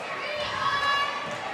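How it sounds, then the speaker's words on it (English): A gym crowd at a middle school basketball game between Scribner and Hazelwood keeps up a steady murmur of chatter and distant shouts, dense and continuous for a moment. "the crowd is getting bigger and bigger"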